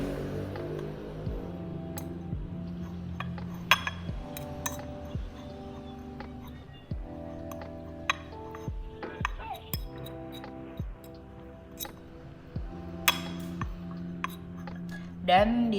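A spoon stirs a rice and iodine mixture in a small glass during a school science experiment, giving a steady run of light clinks and taps against the glass, close and fairly quiet.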